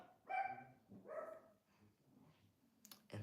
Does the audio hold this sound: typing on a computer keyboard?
no